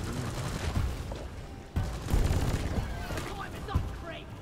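Gunfire in the video game Deep Rock Galactic, dense bursts of rapid shots and booming impacts fighting off bugs, loud and continuous with a clear break partway through, with game sounds layered throughout.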